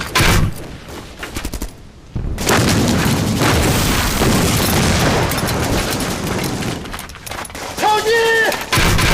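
Shells fired and bursting in a war drama battle: a loud barrage of booms and rapid gunfire rolls on for several seconds, with a brief lull, shouted voices in between and a whistling sound near the end.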